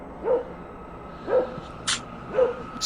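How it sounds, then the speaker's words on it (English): A dog barks in the woods, three spaced single barks at a measured pace, moderately loud and slightly distant, with a brief higher yip between them and a faint hum underneath. "in the woods with a dog barking"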